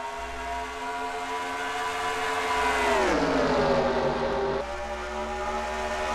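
Stock cars in a racing video game at Michigan, a pack of engines droning loudly and steadily, pitch sliding down as the cars sweep past, then a sustained roar with a sharp burst at the very end.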